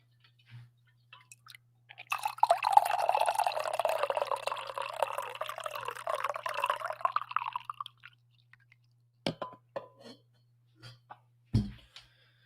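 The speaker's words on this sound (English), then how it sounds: "All right, one more coffee pour." Coffee pours steadily into a cup for several seconds, close and fairly loud, then a few separate drips and clinks follow in near silence.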